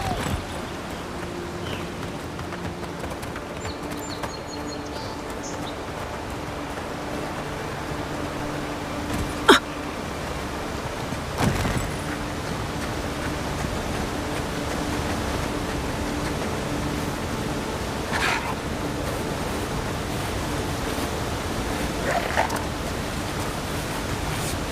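Steady broadband rush of a waterfall in the fantasy video game Avowed, constant and fairly loud throughout, with a few brief sharp clicks and thumps breaking through at moments.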